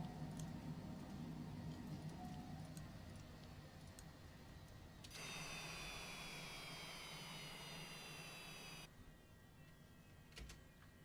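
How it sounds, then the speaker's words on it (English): Jet engines in a simulated airliner in Microsoft Flight Simulator 2024 wind down, a steady broadband roar with a high whine that falls in pitch over several seconds, then the whine cuts off leaving a quieter hum. "We can turn off our engines now."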